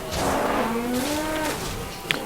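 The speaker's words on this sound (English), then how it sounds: "Kill me a black cow." A black cow in the video game Guild Wars 2 gives one long, loud moo with a gliding, falling-then-rising pitch, close up over steady game ambience, ending with a brief click.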